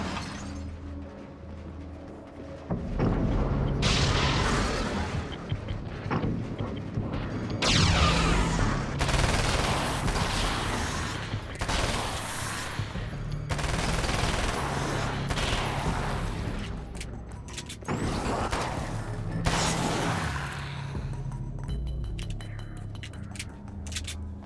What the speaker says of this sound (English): if there's anything a shotgun needed, it was to be fired more quickly